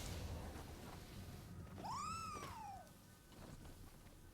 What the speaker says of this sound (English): I find another cat.